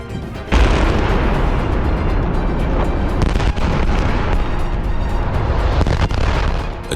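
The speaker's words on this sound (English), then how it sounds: "A deafening blast tore through the air." A deafening blast from a heavy equipment accident, with a steel beam snapping and a cooling tower collapsing, erupts suddenly after a brief quiet and holds as a loud, sustained rumbling roar.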